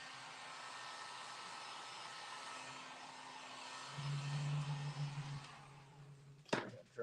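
A hair dryer runs steadily as it dries a freshly painted skateboard deck, a constant close whoosh that shifts in tone partway through before cutting off with a clunk.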